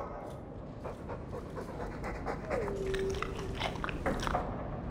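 Mabari war dog in Dragon Age II panting and slobbering, soft wet breathing and chewing sounds at close range, with a brief whine partway through.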